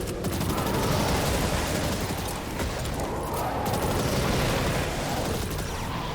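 Dense, continuous gunfire in Destiny 2 aimed at a warmind cell, rapid shots blurring into a loud, unbroken rattle with booming impacts throughout.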